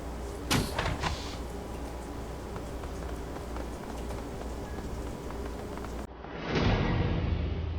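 A dock gate door in Shadowrun: Hong Kong, a few sharp clanks early, then a low mechanical rumble before a heavy sliding movement swells near the end.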